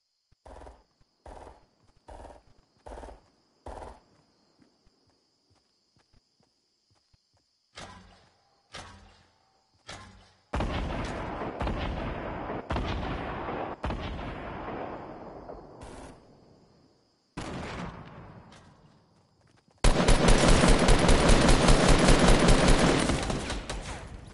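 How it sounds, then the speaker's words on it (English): Video game gunfire in a Fortnite duos match: a run of sharp separate shots, then heavier bursts and sustained loud automatic fire toward the end, with pauses between volleys and no talking. "I hear gunshots."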